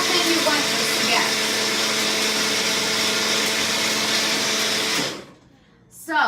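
A kitchen blender-grinder whirs loudly and steadily while blending food, then cuts off abruptly near the end and leaves a short quiet gap before a brief noise.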